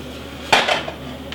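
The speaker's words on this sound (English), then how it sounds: "While the butter is melting, keep stirring the macaroni." A single sharp metallic clank of a utensil against a pot, followed by brief scraping, as macaroni and cheese gets stirred over melting butter; close and loud, then quiet, with no voices.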